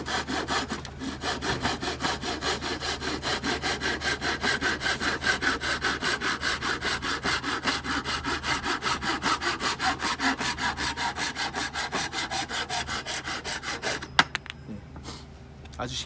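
A Japanese dozuki back saw cuts through wood in steady, even rhythmic strokes, close and clear, continuing for many seconds before stopping near the end.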